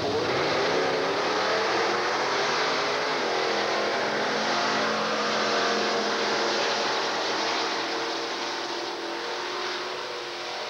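Drag race cars at Texas Motorplex roar in a sustained, loud engine drone with steady high-revving tone, heard from trackside for the whole stretch without audible talk.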